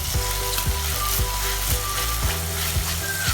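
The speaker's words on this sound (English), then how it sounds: "Now I am adding a paste of fresh coconut and coriander. Mix this really well." A paste of fresh coconut and coriander sizzles and fries steadily in a pan for a fish curry, with rhythmic scraping stirs repeating about every half second, close and continuous.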